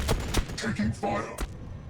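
Gunfire in the Warhammer 40000 Battlesector video game, Necron versus Adeptus Sororitas, a rapid burst of sharp shots and thuds followed by a couple of heavier impacts, loud and close.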